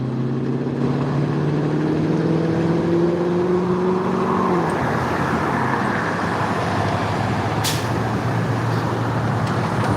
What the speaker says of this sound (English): Now that looks like that public works truck going back by there, that red truck.